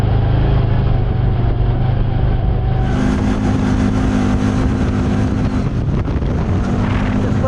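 CFMOTO side-by-side UTV engines revving hard on sand, a loud steady drone with rising pitch as throttle opens, buffeted by heavy wind noise, no talking.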